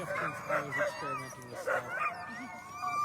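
Sled dogs at a live Alaska race in Willow bark, yip and whimper in excited overlapping bursts close by, with people talking underneath.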